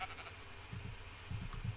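Sheep on a SkyBlock farm in a Minecraft-style game bleat in a few short, low calls, quiet and spaced apart.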